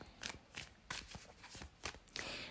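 A deck of tarot cards is shuffled up close in repeated crisp riffling bursts, about five quick flurries of papery slaps, with no voices over them.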